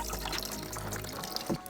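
Dirty brown antifreeze and water drain from a car's cooling system, a steady close trickle with a few drips and splashes.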